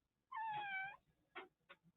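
A pet cat gives one clear, drawn-out meow, followed by two short faint chirps, soft and somewhat distant in a quiet room.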